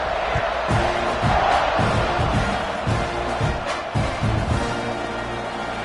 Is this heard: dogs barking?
no